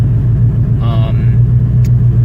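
A car engine idling on a test setup with a Raspberry Pi data logger: a steady low, loud rumble holds throughout while a person speaks briefly over it.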